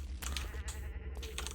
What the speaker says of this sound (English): There's lots of goats or something.